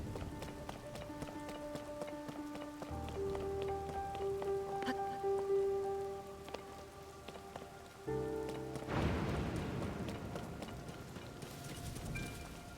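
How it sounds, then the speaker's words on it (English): Rain pours steadily in a stormy Zelda: Tears of the Kingdom game world. The downpour hisses in the background beneath sustained music tones, with rhythmic footstep-like patter and a brief surge of noise near the end. "this place really has very nasty storms"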